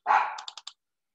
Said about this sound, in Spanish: voy a callar a mi perro, que está que me hace bulla